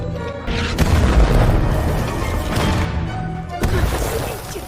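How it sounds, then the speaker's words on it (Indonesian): German mortar bombs exploding over a countryside village in a WWII war film, a run of heavy booming blasts with crashing debris that rolls and sustains loudly, with fresh impacts near the start, middle and end. "Di saat kelompok Jerman meluncurkan beberapa bom ke pedesaan itu"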